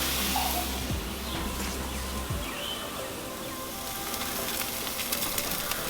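A ribeye steak sizzles directly on a Monument gas grill, a steady close crackle and hiss of searing meat with a brief low hum fading out early and no voices.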